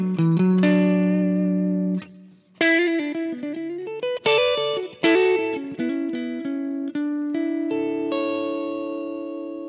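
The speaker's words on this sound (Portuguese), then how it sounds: "se eu quero um reverb maior, eu adiciono o reverb do H9" Electric guitar played through a pedalboard with an Eventide H9 adding big reverb: sustained chords and single notes ringing out with long, washy tails and a slight chorus shimmer, loud and up close.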